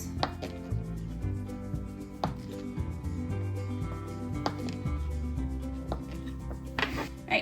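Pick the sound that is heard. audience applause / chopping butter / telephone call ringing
chopping butter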